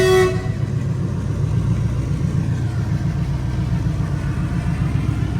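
At a station, twin diesel locomotives rumble steadily in a strong, continuous low drone. A brief horn toot sounds at the very start before fading into the ongoing engine and rail noise.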